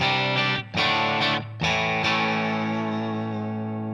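Electric guitar played through a Valeton GP180 amp modeler with spring reverb set to emulate a Fender reverb, no EQ or noise gate, ringing sustained chords with brief gaps between strums, harmonically rich and slightly distorted.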